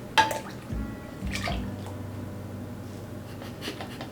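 Juice splashing as it is poured into a punch bowl, a short burst of liquid splashing and trickling followed by a lighter pour, close and moderately loud.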